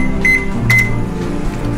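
Oven control beeps as it is set to preheat to 375 degrees, two short, bright, loud tones about half a second apart over a low background hum.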